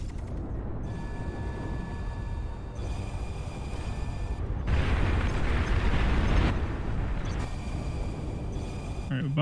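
A bomb goes off in a video game as a broad, rumbling explosion that swells for about two seconds midway and then fades, set against steady game noise with voices talking over it.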